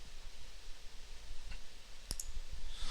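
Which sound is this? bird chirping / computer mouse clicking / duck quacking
computer mouse clicking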